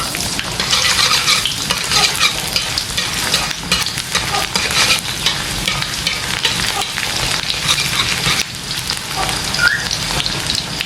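Shallots and garlic for a spicy squid stir-fry sizzle steadily in hot oil as they are stirred, a dense continuous crackle with occasional scrapes, with no talking.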